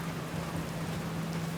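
Storm rain in the VR video game Outer Wilds, a steady broadband hiss of rainfall with a faint low hum underneath, continuous and even with no voices.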